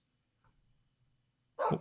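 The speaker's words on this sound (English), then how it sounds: "Woof, there it is." A single short dog bark from a wolf in Minecraft, sharp and close, arriving after near silence and a faint soft sound earlier.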